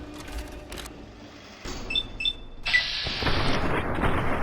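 Gunfire in the video game Fallout: New Vegas, several heavy booming shots in irregular succession, the last burst louder and noisier with a lingering roar.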